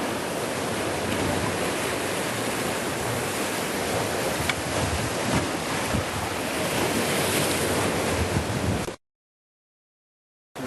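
Mediterranean sea waves break on the shore in a continuous loud wash of surf and spray, steady throughout before cutting out near the end, with no voices.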